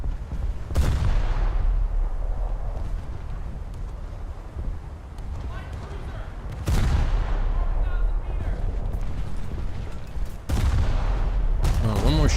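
Naval guns firing during a boat battle in the War Thunder video game: heavy, booming blasts with long rumbling decays, three big salvos spaced apart over steady wind and engine noise, loud and close.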